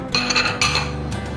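Sliced onion pieces dropped into a blender jug, giving a few bright clinks and knocks against the jug in two quick bursts, close and fairly loud, with no talking.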